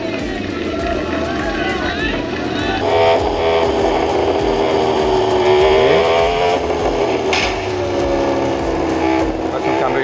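A racing motorcycle engine in the RiMS Racing video game revs hard down a straight, a loud, steady rising whine that holds throughout, with someone talking over it.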